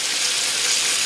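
Bacon cooks with a dense, continuous hiss and crackle, close and even throughout.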